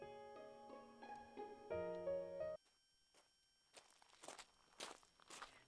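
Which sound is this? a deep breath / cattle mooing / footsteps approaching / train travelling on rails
footsteps approaching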